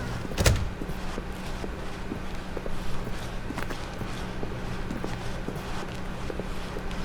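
Footsteps in the video game The Stanley Parable as the character walks through an office door. A thud is heard early on, then soft, steady steps over a constant room hum with no voices.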